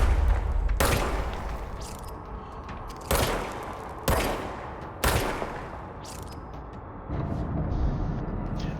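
Gunfire from the video game Control: several sharp, loud blasts spaced a second or so apart, each with a booming tail over a low rumbling background, no talk.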